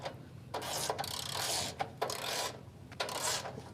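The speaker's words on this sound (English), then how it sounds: "with the ratchet and start tightening it down" A hand ratchet tightens the apron chain of an ABI manure spreader in a series of metallic clicking bursts, each about half a second to a second long, separated by short pauses, close and fairly loud.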